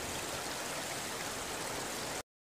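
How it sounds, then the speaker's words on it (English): Natural spring water on an island pours steadily down into the sea, a dense, even rushing wash like a small stream or waterfall, close and constant for about two seconds before cutting off. "It's going way down into the sea though. Natural spring water."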